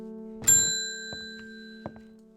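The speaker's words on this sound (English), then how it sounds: "Ding goes the bell." A bright bell in the video game Strange Horticulture rings once with a clear metallic strike that lingers, followed by a couple of faint taps over a soft sustained tone.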